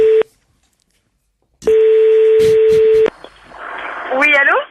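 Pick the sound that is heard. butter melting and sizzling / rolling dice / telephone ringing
telephone ringing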